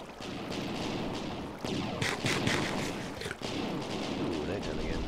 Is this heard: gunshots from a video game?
yes